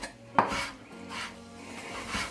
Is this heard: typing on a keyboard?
no